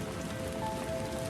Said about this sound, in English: The rain has softened too. It's barely a whisper now against the windows.